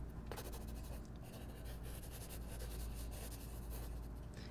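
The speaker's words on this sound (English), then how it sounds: "when I write the word nice and neat on the line" A pencil writing a word on a worksheet line, soft continuous scratchy strokes close up, quiet and steady with a faint background hum.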